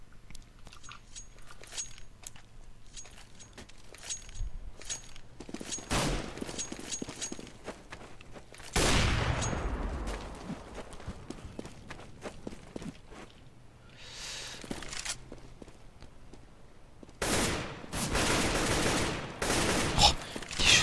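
Bursts of gunfire in a professional Counter-Strike match on de_dust2 crack out in scattered volleys and rapid fusillades, loud and close, with softer footsteps and background noise between them.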